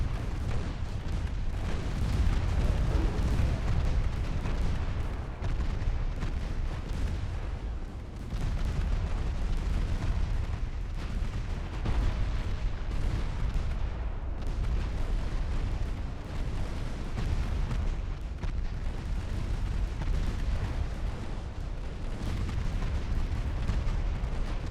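Naval gunfire and ammunition detonations in Ultimate Admiral Dreadnoughts, a continuous barrage of heavy booming cannon blasts and explosions rolling over one another for the whole stretch, loud and dense with only brief dips.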